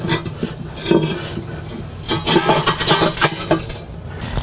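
Metal flexible cooking rack pieces clank and scrape as they are fitted and pulled into a ring inside a fire pit, with a few light clinks early and a denser run of metallic rattles and scrapes in the second half.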